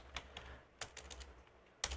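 Computer keyboard keys tapped in short irregular bursts, close and fairly quiet, with a few isolated clicks and a denser cluster at the end as a route table name is typed.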